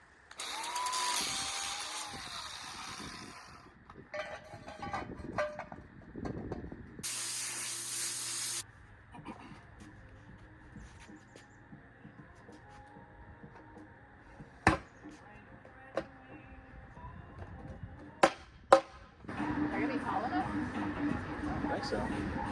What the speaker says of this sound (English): has to grind off the top so that that plate can sit flat